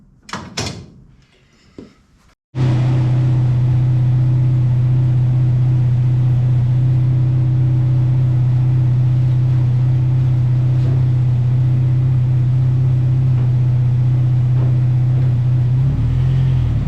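A Jimco off-road race car engine cranks with a few clunks, then roars to life and settles into a loud, steady, droning idle that holds for the rest of the clip.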